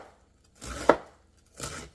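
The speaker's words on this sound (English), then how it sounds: "I'm going to go ahead and just chop it in the bowl I'm going to keep it in." Knife chopping food inside a bowl, two separate dull chops with a sharper knock on the first, close by and quiet between strikes.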